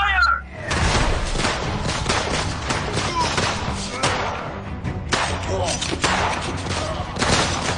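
A dense volley of gunfire in an audio drama, rapid overlapping shots and thuds crackling continuously for several seconds, loud and close, with a voice briefly audible underneath.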